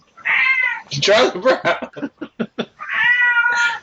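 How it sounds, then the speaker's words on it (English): A cat lets out two loud, drawn-out meows close by, one at the start and one at the end, while a voice speaks a short burst of words in between. "the cat gets upset"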